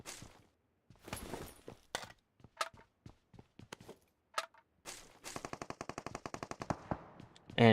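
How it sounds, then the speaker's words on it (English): Gunfire in PUBG Mobile during a squad scrimmage: scattered single shots crack out at first, then a rapid automatic burst of evenly spaced shots rattles out, sharp and close. "And shots are already being fired."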